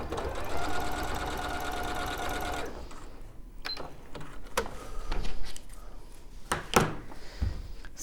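A sewing machine stitches through quilt layers for a Kaffe Fassett Sol quilt, running steadily and loudly for about three seconds before stopping, followed by scattered handling clicks and rustling of fabric.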